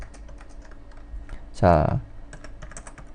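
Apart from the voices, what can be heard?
typing on a computer keyboard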